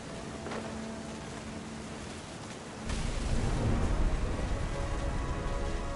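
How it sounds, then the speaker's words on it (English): Thunder in What Remains of Edith Finch rolls in over steady rain, swelling into a louder, closer rumble about halfway through and holding there. "The thunder sounded much too close and full of angry power"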